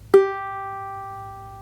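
A single ukulele G string plucked once at correct tuning rings out clearly up close as a clean sustained note with bright overtones, fading slowly over about a second and a half.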